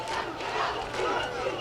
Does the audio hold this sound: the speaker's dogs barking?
no